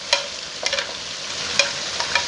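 Bell pepper and cabbage stirred in a hot frying pan for chicken and vegetable macaroni, giving a steady soft sizzle broken by a few sharp scraping clicks of the spoon.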